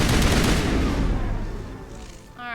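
Dense gunfire from the Mass Effect Legendary game, a loud sustained fusillade of overlapping shots that gradually thins out and fades toward the end, with no one talking.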